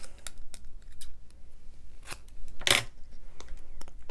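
Scissors cut down a piece of card for a handmade greeting card, making a series of sharp close snips with one louder crunching cut near the end, no voices.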